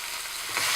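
Beef and garlic frying in a pan for a one-pot beef, zucchini and cashew stir fry, a steady close hiss of sizzling that swells slightly near the end as the meat is stirred.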